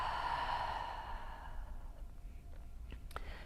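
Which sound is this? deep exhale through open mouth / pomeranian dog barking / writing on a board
deep exhale through open mouth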